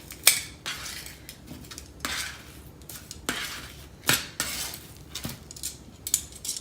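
Food is flipped in a pan with a utensil, giving sharp clinks and scrapes of metal against cookware in an irregular series of close, moderately loud hits.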